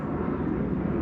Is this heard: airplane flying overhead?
yes